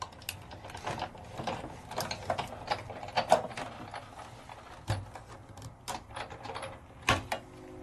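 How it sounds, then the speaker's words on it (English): A greeting card is cranked through an embossing machine, giving a steady run of mechanical creaks, clicks and ratcheting cracks, with sharper snaps near the middle and end and no voices. "And I'm embossing it."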